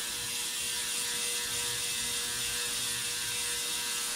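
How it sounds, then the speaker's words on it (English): A cleaning brush scrubs steadily down the bore of an old Smith & Wesson Model 19 .357 revolver, giving a continuous close, raspy scraping hiss with no talking. "run the brush down the bore of the 357."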